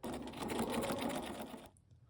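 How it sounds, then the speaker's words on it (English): Sewing machine stitching seams on a heat sheet with a half-inch seam allowance and a slightly long stitch, a loud, steady, rapid whir that runs close-up and then stops abruptly near the end. "Now we'll sew each of these seams on the sewing machine"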